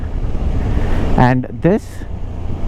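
A KTM 390 Adventure motorcycle engine drones steadily under strong wind rush while riding, with a voice briefly speaking over it.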